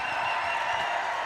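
A crowd applauding at a mixed doubles pro pickleball match at the Arizona Grand Slam, a steady wash of clapping that holds at an even level throughout.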